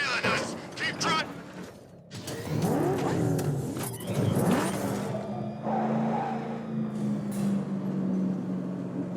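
A car driven in Batman: Arkham Knight, engine revving and accelerating with mechanical clatter, creaks and a sustained drone, mixed with game effects and voices talking over it.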